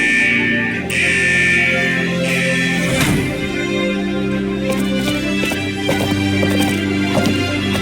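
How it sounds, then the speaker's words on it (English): In a Wuthering Waves vault, a central alarm sounds as a loud sustained tone that cuts out and resumes once, then a cluster of crashing hits and shifting game sounds continues beneath a steady lower drone. "Is that the central alarm of the vault?"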